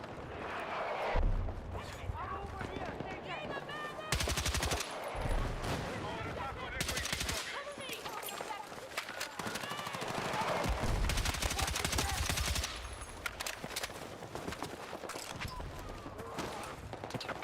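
Dense, continuous gunfire from the video game Battlefield 6, with rapid automatic bursts and heavy blasts layered throughout and someone talking over the action.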